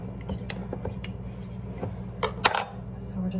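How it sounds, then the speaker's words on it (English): A normal butter knife scrapes around the edges of black sausage in a metal pan, with scattered light metallic clicks and scrapes over a low steady hum, faint and close. "We're just gonna take a normal butter knife and cut around the edges"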